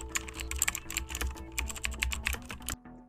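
Rapid, close keystrokes clatter steadily on a computer keyboard as a terminal command is typed during a capture-the-flag hacking exercise, ending abruptly with no talk.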